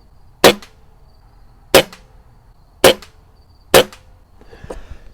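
Four sharp, loud shots from a Diana Bandit air pistol fired at a target, spaced about a second apart, each a crisp crack with a short decay, then some light handling noise.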